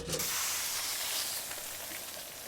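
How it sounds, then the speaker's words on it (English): French fries frying in the video game Kebab Chef Restaurant Simulator, a steady bright hiss and sizzle of hot oil that holds evenly throughout, with no voices. "We can heat that and do a french fry"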